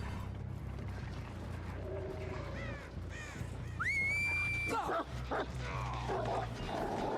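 The Houndmaster's dog in Dead by Daylight barks and yips in a few short bursts against game ambience, with a loud whistle-like sweep in the middle and brief caw-like calls.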